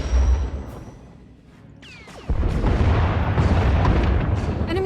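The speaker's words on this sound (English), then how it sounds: "Enemy is firing. Turbo lasers, missiles, and what looks like transport pods." An enemy Thranta-class warship in SWTOR fires turbolasers and missiles, dense booming blasts and roaring fire that rumble continuously, with a sharp laser whine and a heavy surge of explosions partway through.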